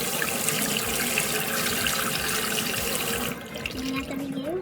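Steady running water pours from a tap onto a kinky curly wig, a constant close hiss that changes tone near the end as the flow shifts.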